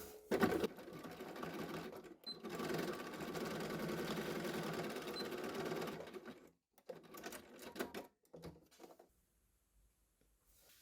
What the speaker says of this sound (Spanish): y ahora vamos a hacer la costura justo por aquí para dejar mejor sujeta las asas